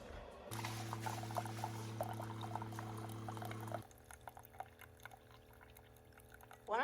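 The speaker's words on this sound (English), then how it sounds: "when the coffee is being poured in, it just automatically mixes together" Coffee pours into a cup that already holds half and half, giving a close, steady liquid stream with a low gurgling tone that stops suddenly partway through, followed by faint trickles and small clinks.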